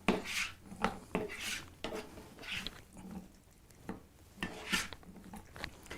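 Beans folded by spoon into a watery vegetable sauce in a cooking pot, giving intermittent scraping and clinking strokes against the pot with soft wet squelches between, close and fairly quiet.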